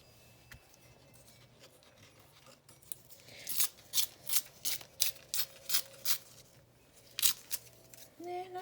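Paper torn by hand in a series of quick, rhythmic rips, about a dozen crisp bursts after a quiet start, close and fairly clear with no talking.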